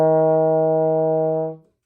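A baritone horn sounds E flat with the first valve pressed, a single clean, steady note held for about a second and a half before stopping.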